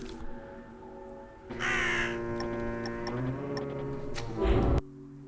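Crow caws sound in the video game Drake Hallow, harsh calls rising over a ticking, droning in-game music bed, with a brief louder swell just before it cuts off.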